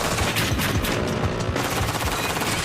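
Rapid bursts of heavy gunfire from big guns crackle continuously and loudly, overlapping shots forming a dense, sustained barrage with no talk.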